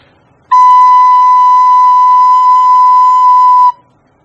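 A recorder sustains a single B note as a whole note for four beats, a pure, steady, loud whistle-like tone held for about three seconds alone, then stopping cleanly.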